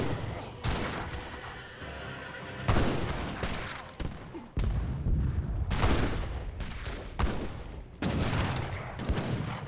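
Skirmisher musket volleys in an Age of Empires 3 battle ring out as repeated clustered bursts of sharp cracks with brief lulls between, some shots hitting close and heavy while scattered fire continues behind them.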